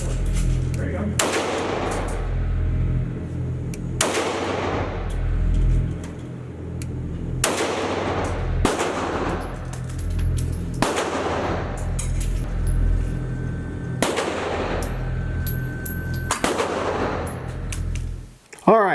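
Ruger 5.7 pistol fired at an outdoor range, sharp loud reports spaced a couple of seconds apart, about seven shots with ringing decay and faint background murmur between them.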